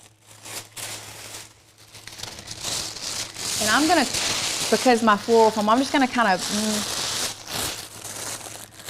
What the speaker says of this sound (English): we're gonna tear it in half, and I'm gonna crumple it up